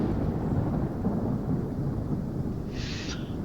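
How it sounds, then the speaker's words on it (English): A thunderstorm rumbles continuously in Microsoft Flight Simulator 2024 around a Learjet 35A, as a dense, heavy roar with no talk over it. "That thunderstorm is cracking."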